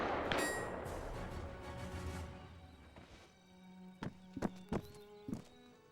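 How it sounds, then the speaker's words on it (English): Footsteps in a WW2 first-person shooter match, several sharp, distinct thuds spaced unevenly near the end, following a quieter, muffled stretch. "Gotland's footsteps are going to be heard by Callie here as Callie retreats to the corner."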